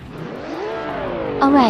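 Race cars, including a 1979 BMW M1, rev and accelerate off the line at the start of a race on the Anadara Circuit, a rising engine whine with a sharp louder surge near the end.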